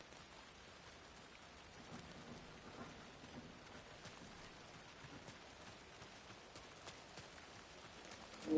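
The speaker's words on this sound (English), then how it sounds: "Subtle rumbling of lightning." Faint rumbling thunder rolls under steady pattering rain in the video game Alan Wake 2, a soft continuous storm wash with no voices.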